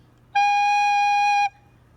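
A G note played on a wind instrument with finger holes, with the three front holes and the back hole covered using the left hand. It sounds as one clean, steady sustained tone lasting about a second, alone and clear.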